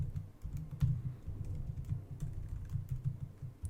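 Steady run of computer keyboard typing, a quick, continuous patter of key presses at close range, with no voices.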